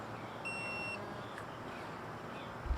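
A digital torque wrench gives a short steady electronic beep of about half a second when its set torque is reached while tightening wheel bearing bolts on a Toyota Corolla, followed by quiet and a faint click at the end.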